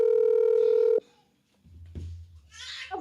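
A telephone being dialed to return a call gives a steady electronic tone for about a second, which cuts off abruptly. Near silence follows, then faint low rumbling and a few soft, scattered sounds.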